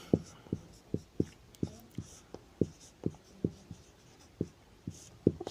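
Writing on a board or paper during a maths lesson, heard as a run of crisp, evenly spaced taps and strokes, close and fairly quiet, with soft murmuring in the background.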